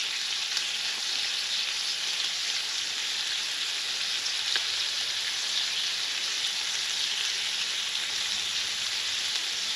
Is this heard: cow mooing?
no